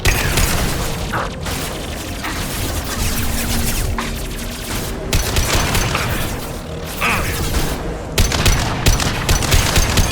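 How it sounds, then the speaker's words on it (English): Gunfire in the Mass Effect 2 game, a high-impact shot among dense, continuous combat blasts and mechanical clatter that stay loud throughout. "Firing a high impact shot."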